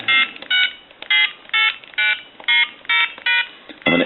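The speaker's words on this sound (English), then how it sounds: "We're going to go ahead and dial out." Touch-tone dialing on an AT&T 210 Mickey Mouse telephone: a string of about nine clear, evenly spaced beeps, each short and crisp, close and alone.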